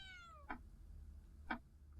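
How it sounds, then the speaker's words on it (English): Two short cat meows inside a horror video game, evenly spaced about a second apart, fairly close and clear over a low droning background hum, with a faint descending synth tone fading out at the very start. "Cat? Meow to you too."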